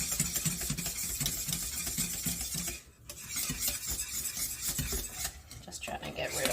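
A wooden spoon stirs thick pap porridge in a pot, making continuous scraping and knocking strokes close up, with a brief pause partway through.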